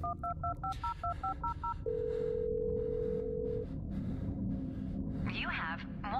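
A phone's voicemail menu in the video game Blair Witch gives a quick run of keypad beeps, then one long steady electronic tone, with a person talking faintly over it.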